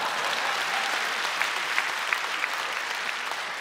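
Steady applause from an audience at a sports-event introduction, a dense, continuous wash of clapping with a few sharper individual claps standing out, holding at an even level throughout.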